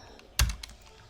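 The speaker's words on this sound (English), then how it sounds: "Oops, I am typing bad today" A computer keyboard gives a single sharp keystroke click followed by a couple of softer taps, close and brief, with no voices.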